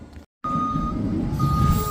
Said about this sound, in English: hey, my wheat truck is here